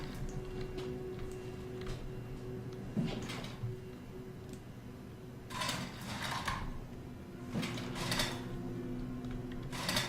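A pneumatic door seal closes in the sci-fi horror game SOMA, with mechanical hissing bursts and clunks over a low droning ambience, several bursts of air spread across the stretch.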